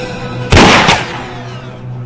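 A single loud gunshot booms out in a western standoff, sharp and close, its echo decaying over a low steady hum with no talking.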